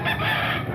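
A fighting cock crows at a busy roadside market in Grotto, a loud, close, sustained cry over the surrounding crowd noise.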